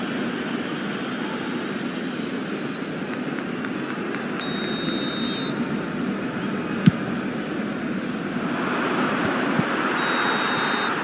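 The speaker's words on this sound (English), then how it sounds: "Whistle goes again." A referee's whistle in the eFootball video game sounds in two short shrill bursts for an offside call, riding over a steady, loud stadium crowd roar.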